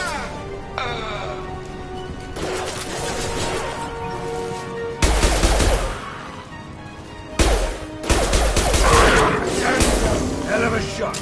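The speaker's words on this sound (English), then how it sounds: "Firing an impact shot!" Impact-shot weapon fire in the video game Mass Effect: several heavy booming impacts with crashing tails, a few seconds apart, amid busy combat noise and voices.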